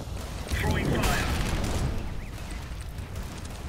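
Molotov fire thrown in the Counter-Strike video game bursts up in a loud whooshing flare with crackling under game noise and a speaking voice, then fades into a steady burning hiss.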